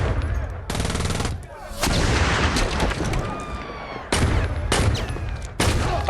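Gunfire in the video game Saints Row 2, with bursts of rapid automatic shots and booming blasts coming in loud repeated volleys, separated by brief lulls with game sound.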